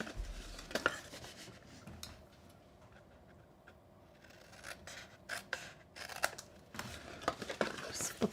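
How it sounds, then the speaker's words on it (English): Scissors snip paper at an angle for a tapered gift box, a series of short crisp cuts in bursts with quieter handling rustle between them. "And now we're gonna cut on these angles"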